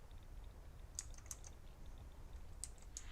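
Computer keyboard keys pressed while tuning a scanner in the video game Elite Dangerous: a few sharp, faint clicks in two small clusters over quiet background hum, without talk.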